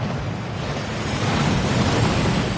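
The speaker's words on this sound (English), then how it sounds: "That waterfall washes away all enchantments." A waterfall in the video game Hogwarts Legacy rushes with a dense, steady roar of falling water that swells slightly and continues unbroken.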